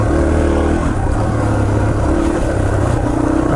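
Yamaha TT-R230 dirt bike engine on a trail at Windrock Park, a loud, continuous, buzzing drone close by with slight shifts in pitch as the throttle varies.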